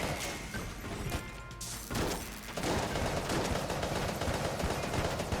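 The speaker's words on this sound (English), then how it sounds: "I don't know why I'm using the hegemony carbine." Rapid gunfire from the hegemony carbine in the video game Enter the Gungeon, heard as a dense, continuous stream of loud shots and impacts, with a short lull before the firing resumes and keeps going.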